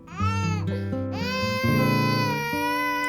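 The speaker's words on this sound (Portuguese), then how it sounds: "Tá ouvindo esse choro de bebê?" A baby crying close up, loud and continuous, with tonal wails that rise and fall in pitch across a few seconds and no other sounds.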